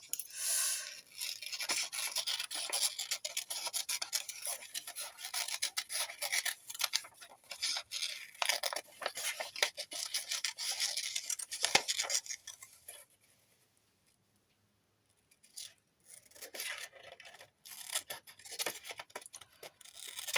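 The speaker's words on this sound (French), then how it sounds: "Alors je prends mon gros ciseau." Medium-sized scissors cut through decorative scrapbooking paper with repeated rasping snips and crisp slicing strokes, close up, pausing briefly before the cutting resumes.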